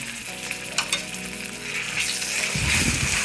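Ginger garlic paste frying in a pot for chana pulao gives a steady sizzle that grows louder and denser near the end as it is stirred, with no voices over it.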